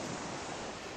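Open water washing past a boat during a sea crossing in the game EverQuest, a steady, soft wash of waves and wind with no distinct splashes or talk.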